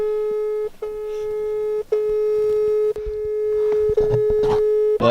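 A telephone call rings out with a steady electronic tone, broken into four long beeps of about a second each, loud and close, with faint rustling underneath.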